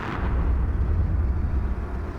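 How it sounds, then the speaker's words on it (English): A Citadel explosion rolls on as a deep, continuous low rumble, heavy and sustained, with no distinct bangs standing out from the roar. "Citadel explosion that we're dealing with now."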